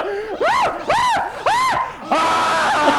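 Actors on a 1990s indie film shoot, in a forest scene, let out a run of rising-and-falling screams, three long wavering cries in a row, followed by rougher crowd-like shouting.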